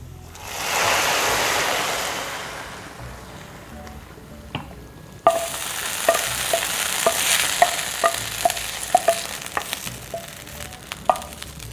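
Golden-brown fried onion tempering (bhugar) poured into a pot of beef nihari for an Eid dish sets off a sudden loud sizzle that keeps crackling with sharp pops and stirring clicks, with no talking.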